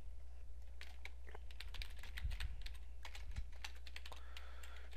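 Quick keystrokes on a computer keyboard while typing a web search, a steady patter of clicks close by over a low constant hum, with no talk.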